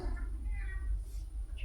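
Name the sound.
pet cat meowing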